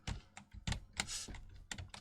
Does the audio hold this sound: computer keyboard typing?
yes